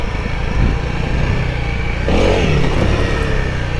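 A Honda CRF300L street-legal dual-sport motorcycle engine runs loud and close, holding a steady mechanical drone before rising sharply in a rev about halfway through.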